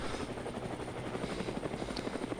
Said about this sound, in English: Yeah, we have some Apache here.